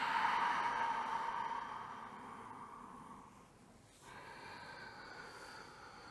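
A long, steady breath out during a breathing exercise, a soft airy rush that slowly fades, then a brief pause and a quieter breath after it.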